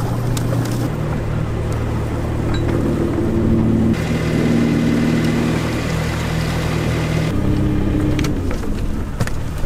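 A fishing boat's engine drops into reverse gear while nets are being set in spring, a steady low droning hum with shifting harmonic tones that changes pitch partway through, continuous and fairly close, with no voices.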